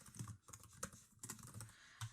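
Keys clatter on a computer keyboard while someone types information into a Microsoft Dynamics 365 lead form, a quick series of close, fairly quiet taps with a few sharper strikes.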